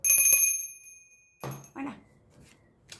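A bell rings out sharply at the start with a bright, sustained metallic ring that fades over about a second, followed by a few soft, faint sounds.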